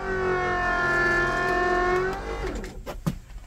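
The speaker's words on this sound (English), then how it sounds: "I'm going to do the backup brake motor check by pushing on the brake pedal, and you will hear the motor" School bus backup brake electric motor running steadily with a tonal whine, loud and continuous for about two seconds, then winding down and stopping, followed by a few faint clunks.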